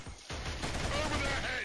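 Gunfire from a firefight in the video game Killzone, a dense, continuous rattle of shots starting after a short pause and holding loud through the rest, with a voice mixed in.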